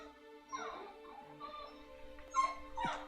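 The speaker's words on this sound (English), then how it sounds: "And the puppy crying too." A puppy in the game Eliza whimpers and yips in short, high, wavering cries over a steady soft musical backdrop, several small bursts spread across a few seconds, fairly close but not loud.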